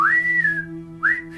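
A person imitates a whistle echoing through a cave with two rising whistles, the first long and sliding and the second shorter, close and loud over a low steady hum.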